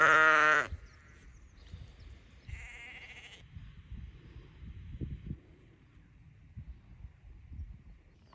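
Three sickly lambs kept indoors on a farm give a loud, close bleat at the start, followed by a fainter call a few seconds later, then quiet rustling and low background noise.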